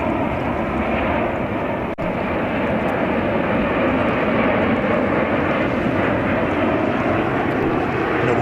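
A 13-year-old Mitsubishi CRJ 900 jet airliner at JFK airport, bound for Burlington, produces a loud, continuous jet roar that stays steady and close throughout.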